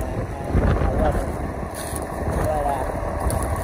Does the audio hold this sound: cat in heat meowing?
no